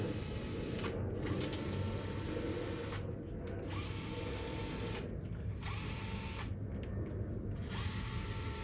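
A ratchet wrench backing screws out, with a steady mechanical clicking of the pawl in repeated runs broken by short pauses, loud and close, with no talking.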